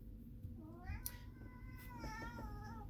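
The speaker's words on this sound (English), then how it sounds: "Oh, my cat has decided to say hi." A house cat meowing indoors: a couple of soft, rising and falling meows, quiet and fairly close, over a faint low hum of a room.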